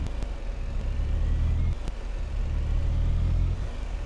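A truck hauling a trailer on the road with cruise control engaged gives a steady, continuous low engine drone and rumble, close and even throughout, with no voices.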